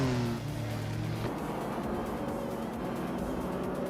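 A 1951 Ferrari 212 Export race car in a racing video game, its engine droning steadily at close range, with a higher rising tone that drops away early on before a constant rumble continues.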